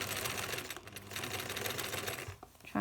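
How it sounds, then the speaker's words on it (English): A sewing machine stitching a front neck band on a unisex scrub top at about a 3 length stitch, with a rapid steady mechanical whir running a few seconds before slowing and stopping. "first we'll just do a back stitch, a few stitches,"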